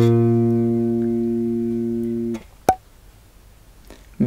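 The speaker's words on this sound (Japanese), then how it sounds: "A シャープの音になります。" Bass guitar sounding A sharp on the G string, one held note sustaining and fading gradually, then stopped abruptly with a quick click and brief quiet after.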